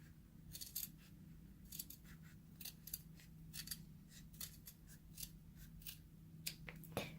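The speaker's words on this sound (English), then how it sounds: "We are cutting in a wave, not like a zigzag, but a wave." Scissors snip through old denim jeans, cutting wavy circles one to two inches across: a quiet, close series of short crisp crunches at an irregular pace over a low steady hum.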